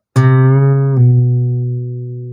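A single fingerstyle acoustic guitar note, an open string played at the second fret, plucked cleanly and ringing out alone with a slow, even decay.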